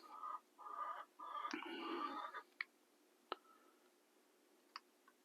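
Chicken clucking in a short run of close, moderately loud calls, followed by a few isolated sharp clicks and quieter squawks, with no talk.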